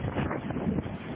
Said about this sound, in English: Violent winds whipping through a neighborhood in Boyle Heights